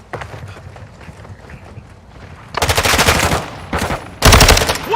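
Bursts of rapid automatic gunfire in Call of Duty MW2 DMZ, a quieter patter of footsteps and clatter at first, then loud sustained volleys and a final heavy burst, close and dominant.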